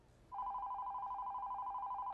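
A telephone rings with a steady electronic tone that starts abruptly and holds unbroken, clear and fairly near above a quiet room.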